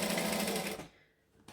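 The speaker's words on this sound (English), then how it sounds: "And then I'm just stitching around." Sewing machine stitching around a seam on a hobo bag, a steady close mechanical whir that runs for most of a second, then stops and leaves near-quiet.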